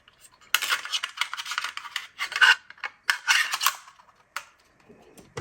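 Small screws are driven back into the case of a 15-year-old Toshiba Qosmio X505 laptop, giving close, faint bursts of metallic scraping and clicking in irregular spurts separated by short pauses.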